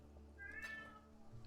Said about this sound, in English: Kitty is meowing.